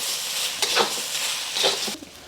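Egg is broken up with a spatula while shrimp fried rice with beans sizzles in a hot pan, soft scraping strokes over a steady crackling fry, no talking.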